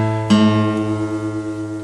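A guitar's A string is plucked once and rings on alone, a sustained pitched tone with rich harmonics slowly decaying, close and clear against a steady reference note.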